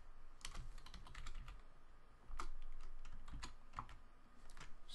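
Fast irregular clatter of keys on a computer keyboard, close and moderately loud, with bursts of rapid strokes and brief pauses, no voices.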